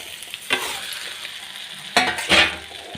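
Cooked rice is stirred and fried in a pan with chopped coriander for fried rice, giving a gentle sizzle under sharp scraping strokes of a spoon against the pan, with no one speaking.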